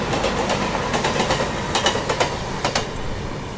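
A passenger train runs alongside on a parallel track near Mumbai, its wheels clicking over rail joints in a steady rumble that fills the whole clip, with sharper clacks standing out in the second half.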